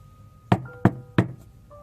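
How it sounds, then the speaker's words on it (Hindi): Three sharp, evenly spaced knocks on a house door ring out loud and close, each followed by a brief pause, with no voices. "अशोक दरवाजा खटखटाता है।"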